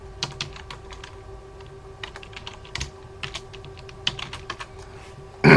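Someone types an SSH command on a computer keyboard, an irregular run of crisp, close key clicks with brief pauses, ending in a louder clatter of keys.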